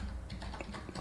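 Rapid typing on a computer keyboard while entering text in Canva, a dense run of close, crisp key clicks with no talking.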